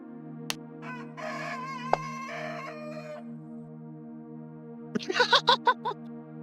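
A chicken crows and clucks in a burst of rising calls, then a quick series of loud, sharp clucks, heard over a steady background hum in a tabletop game session.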